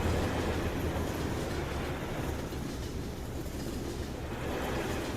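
In the Farming Simulator 15 game, a train rolls along with a steady, loud, unbroken rumble and faint rail clatter, heard alone without talk.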